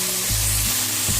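Mushrooms sizzle in a hot pan ahead of potatoes being added, a loud continuous hiss broken by a few stirring thuds.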